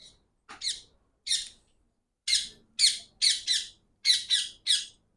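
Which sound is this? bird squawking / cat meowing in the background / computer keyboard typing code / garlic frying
bird squawking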